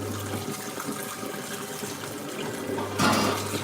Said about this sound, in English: You're going to see a man wash up.